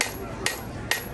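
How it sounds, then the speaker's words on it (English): A blacksmith at a Renaissance Faire demo hammers the bevel of a blade, three crisp metallic strikes at an even, steady beat, close and ringing over a low background. "I'm also hammering the bevel"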